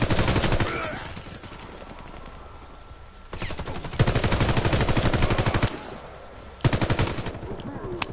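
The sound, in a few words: gunfire from the video game Warface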